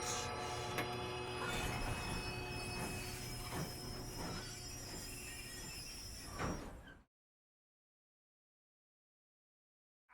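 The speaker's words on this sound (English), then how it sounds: "We have to stop this train." Train from Red Dead Redemption 2 running along the rails, a loud steady rumble with clanking, wheel squeal and metallic tones for about seven seconds, then an abrupt cut to silence.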